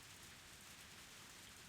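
Rain in the video game Higurashi When They Cry falls as a steady, even hiss, faint and continuous, with no voices.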